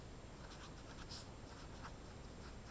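A pen scratches steadily across a surface as a math answer and a tape diagram of 32 boxes are written out, a faint, continuous scribbling with no pauses.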